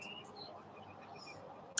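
Birds chirp outdoors in short, scattered high calls, faint and intermittent over a soft steady background, with no one talking.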